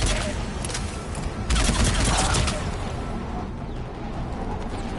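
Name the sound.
gunfire in Mass Effect 3 video game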